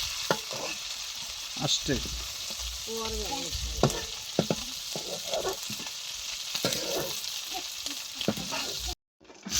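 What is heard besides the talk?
fish frying in oil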